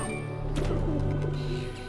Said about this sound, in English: There's the birds